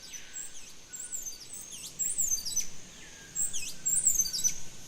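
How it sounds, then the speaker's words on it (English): A male streak-throated hummingbird sings from an Amazon river island forest, thin high squeaky phrases repeated every second or so, faint against a soft background hiss. "A male streak-throated hummingbird uses its enchanting song and simple display to attract potential mates."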